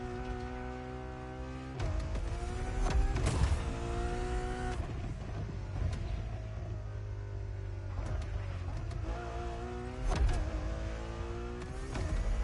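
The Ferrari Enzo's engine in The Crew Motorfest drones steadily at close range, rising and falling through repeated revs and gear shifts, with surges near the middle and toward the end.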